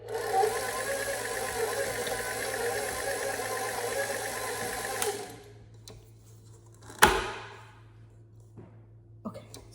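A struggling electric mixer whirs through baking batter with a steady mechanical drone for about five seconds, then shuts off, leaving quiet room sounds, a sharp clatter and a few soft knocks.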